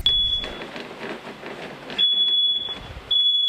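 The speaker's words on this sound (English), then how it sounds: "That's where Moats says he realized it was his carbon monoxide detector." A home carbon monoxide detector shrills in a steady high-pitched alarm tone, heard loud and near in three bursts separated by gaps, with rustling background noise between them.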